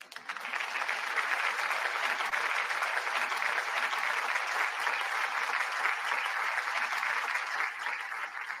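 Loud, steady applause fills nearly nine seconds without a break, sustained crowd clapping on a sports talk livestream after a viewer donation, with no voices over it.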